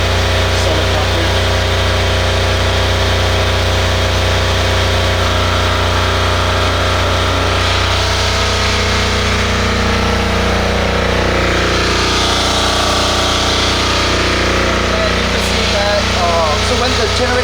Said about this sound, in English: So after you turn the switch on, the generator will turn on.